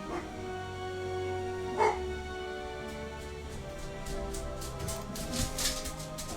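Dogs bark, yip and whimper nearby in short repeated bursts over steady background music and tones.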